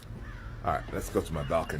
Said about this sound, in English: You hear the birds chirping and stuff.